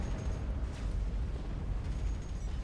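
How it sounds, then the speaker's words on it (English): Explosions ripple through a naval video game battle as several destroyers are blown apart, a dense, continuous low rumble of blasts and booms that stays loud for the whole stretch with no voices over it. "At least a couple of destroyers went pop in that explosion."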